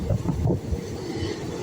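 Matsyagandha Express passenger train rumbling along at speed, a loud close low roar with rattling from the carriage and wind buffeting, no talk.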